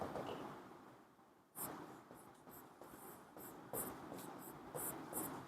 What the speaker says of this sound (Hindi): फिर से लिख देता हूं